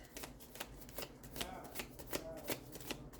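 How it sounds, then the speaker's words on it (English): Circle of Life tarot cards being shuffled by hand, a quick run of crisp riffling bursts and soft slaps repeating close to the microphone, with no talking. "I'm going to pull just a couple of these Circle of Life tarot cards"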